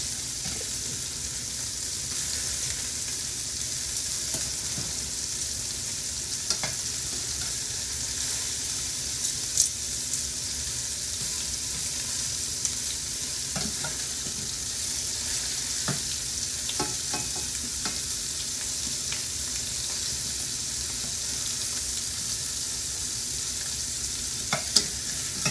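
Cheese-stuffed meatballs fry in a pan just after being flipped, giving a loud, steady sizzle with occasional pops and stirring clicks throughout, with no voices.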